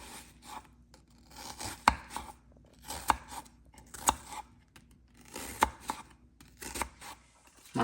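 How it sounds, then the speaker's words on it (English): An onion half chopped with a knife on a cutting board, a string of uneven crisp cuts and knocks with slicing rasps between them, close by and fairly quiet. "Just chop it up and throw it in there."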